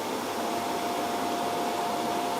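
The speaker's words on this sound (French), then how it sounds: "il devrait lancer sa vidange automatiquement" A robot vacuum empties itself at its charging base with a steady, fairly subdued rushing suction and a thin constant whine, continuous throughout with no voices.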